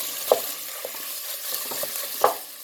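Meat for taco empanadillas fries and gets stirred in a pan, a soft steady sizzle broken by a few sharp scraping knocks of the utensil, close and fairly quiet, with no talking.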